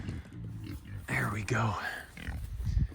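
Pigs grunt and squeal close by as they eat banana peels on a farm in mild autumn weather, several overlapping bursts mixed with someone speaking briefly.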